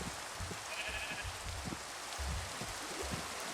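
A sheep bleats in the Minecraft video game, a single faint, thin call heard briefly over a continuous noisy wash with low thumping rumbles.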